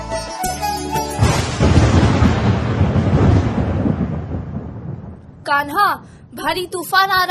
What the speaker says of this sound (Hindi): भारी तूफान आ रहा है।